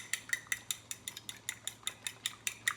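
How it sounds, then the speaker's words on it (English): Egg whites being beaten in a pan on a stovetop at half heat, heard as about a dozen quick, evenly spaced metallic clicks and taps of utensil against pan, close and fairly faint, with no talk. "Beat them a little."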